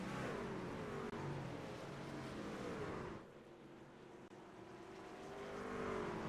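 Race cars roar around the Eldora dirt track in a heat race, a loud, continuous engine drone that swells and dips as the pack passes, with no talk over it.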